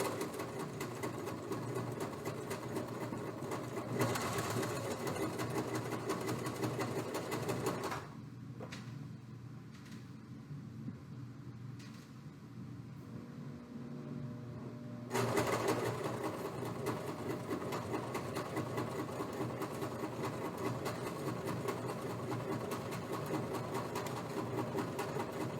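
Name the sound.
sewing machine stitching fabric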